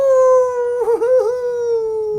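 A man imitates a wolf howl with his voice, one long sustained wavering cry that dips and bends in the middle, loud and close, alone without other talk.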